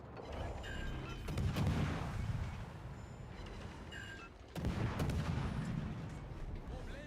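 Naval guns firing in World of Warships: Legends: two heavy, booming salvos about three seconds apart, each bursting loud and then trailing into a long rolling rumble over steady background engine noise.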